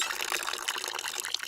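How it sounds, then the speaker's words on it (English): Liquid pours from a LEGO-built dispenser machine into a cup, a steady, close hissing trickle with no talking over it. "and the liquid begins pouring"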